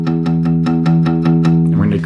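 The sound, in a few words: guitar open E string palm-muted with right hand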